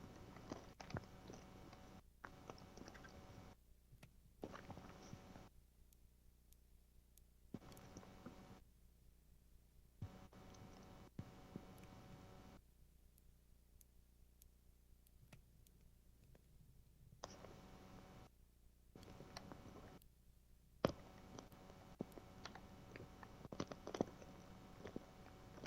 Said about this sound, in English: Sorry, you can probably hear me munching.